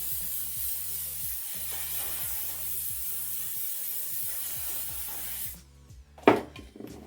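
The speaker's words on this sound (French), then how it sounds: "Je viens juste venir ajouter de la laque." A long continuous hiss of hairspray misted onto styled hair, close and steady for several seconds under a low background hum, then cutting off, followed by a short soft rustle.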